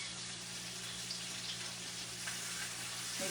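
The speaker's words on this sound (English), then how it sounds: "you can't cook pineapples in an iron skillet, John" Marinated pineapples sizzle in a hot iron skillet with a steady, even crackle and a low background hum, and no voices are heard.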